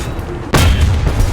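The KW-II 754 (r) tank's 105 mm gun fires once in War Thunder, a single loud, close boom that starts abruptly and leaves a long rumbling tail.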